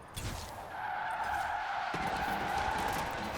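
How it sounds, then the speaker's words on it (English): Tires of an all-wheel-drive car squeal in a long, steady skid while it drifts sideways in Forza Horizon 4, a sustained screech from start to finish over engine rumble. "it's all just all-wheel drive drifting"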